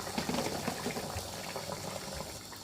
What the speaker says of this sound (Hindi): ये देखें बॉईल आ चुका हुआ है।